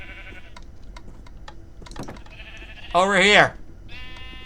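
Sheep in a video game bleat in a wavering, nasal call near the middle, rising over a background of clicking and soft game sounds, with someone talking briefly and further tonal game noises around it.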